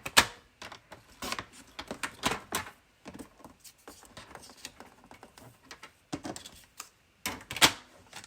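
Paper being cut down to about two inches for a card project, heard as a series of sharp, close snipping and crisp clicking bursts in an irregular rhythm with brief pauses between, and no talking.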